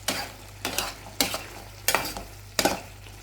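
Bitter melon (ampalaya) and sardines sautéing in a pan, a soft continuous sizzle broken by five scraping stirs of a utensil at roughly even intervals, close and moderately loud.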